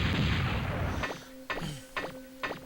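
Sub weapon blasts in Megaman Legends 2: a loud rumbling burst gives way to three sharp explosive pops at even intervals, each with a ringing metallic tail.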